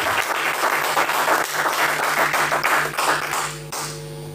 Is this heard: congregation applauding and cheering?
yes